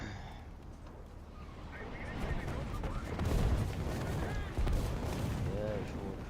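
Distant artillery booms and bursts of gunfire in War Thunder roll over a rumbling battlefield backdrop, with several heavy thumps rising in the second half.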